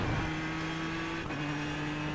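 Race car engine in the iRacing sim during practice for the 24 Hours of Daytona, holding a steady, sustained drone at nearly constant pitch throughout, with no talking.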